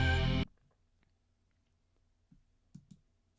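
A few faint, soft mouse clicks selecting an option in the game The Most Normal Cat Ever, spaced out after a short burst of voice at the start, with quiet gaps between them.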